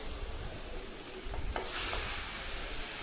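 Flattened rice (aval) heating in a pan, a steady soft sizzle and dry rustling as it is stirred, with a faint scrape of the utensil and a rising hiss toward the end.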